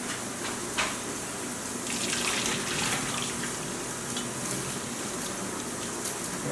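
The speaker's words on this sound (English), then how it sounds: "Alright, so we're going to drain the orzo now." Cooked orzo drained into a kitchen sink, with a steady loud rush of poured water splashing continuously up close, a small knock near the start.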